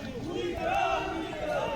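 Shouting crowd of rioters during a police riot-control drill at a PAC battalion ground, a dense roar of raised voices and cries, loud and continuous throughout.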